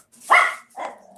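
A dog gives two sharp barks close by, the first louder and the second a shorter follow-up, with no talk around them.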